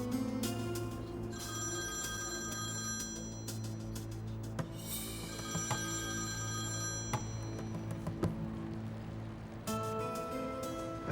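A telephone rings steadily through an incoming call, its repeated electronic bell tones continuing for about eleven seconds over a low background hum, with no talking.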